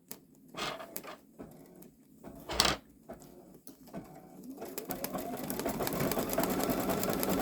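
Babylock Solaris Vision embroidery machine stitching a design onto a boy's long-sleeve garment in a hoop: a few knocks and clicks at first, then a steady rapid mechanical whirring that builds and holds, close and fairly loud.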